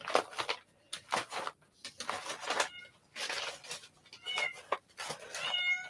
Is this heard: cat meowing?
yes